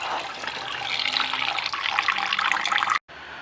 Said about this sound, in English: removing that bottom hose, letting it all drain out